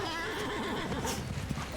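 A horse neighs and whinnies in a video game, a single drawn-out call rising and wavering over steady game ambience, fairly close and moderately loud.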